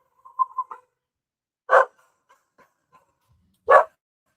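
A dog barking indoors, two loud isolated single barks about two seconds apart, preceded by a brief faint chirping sound, otherwise quiet with no talking.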